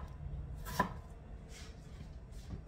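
A knife chops an onion on a cutting board, with one clear sharp cut followed by a couple of softer taps, close but faint over a quiet room hum.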